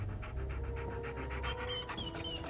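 An abandoned pup in the video game Hell is Us pants in quick, steady rhythmic breaths close by, followed by a few high whimpering whines toward the end.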